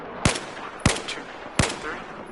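Three single carbine rifle shots tapped at a Battlefield 4 shooting range, each a sharp loud crack with a short tail, evenly spaced about two-thirds of a second apart.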